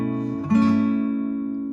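A guitar chord strummed once with the thumb wrapped over the neck and the high E string muted; a single near, clean strum that rings on and slowly fades.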